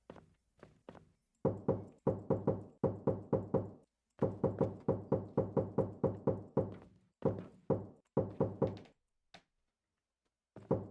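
Repeated knocking on walls in the game There Are People in Your Walls: bursts of firm, close, hollow raps in quick runs, separated by brief pauses, with a few isolated single knocks.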